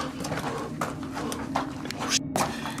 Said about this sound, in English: Okay, those are footsteps.